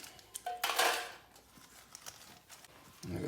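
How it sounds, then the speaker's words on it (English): Soaked wood ear mushrooms are tossed into a small pot: a brief clatter of soft pieces against metal, then faint scattered knocks and a low bump at the end, close and fairly quiet. "now we got a bunch of these wood ear mushrooms that we have to soak. So we're gonna chuck them all in a little pot"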